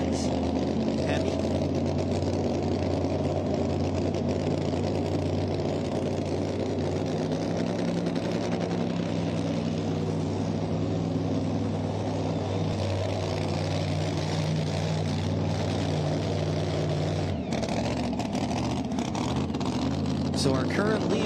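Ford pulling truck Rampage with a Sassy Racing Engines Hemi roaring continuously at a pulling event, a loud sustained engine drone that drops off sharply near the end, with crowd noise throughout.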